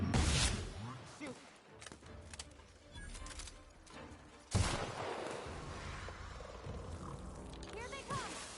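Chaotic gunfire in The Outer Worlds, shots popping irregularly amid a busy battle mix with a heavier blast midway, under shouting voices.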